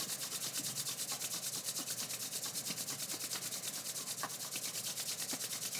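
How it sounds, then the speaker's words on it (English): Palms and fingers rub briskly together, a steady rhythmic swishing of skin on skin, close and even, continuing alone without talk. "rub your hands together. Create some friction, create some heat in the palms of the hands and the fingers"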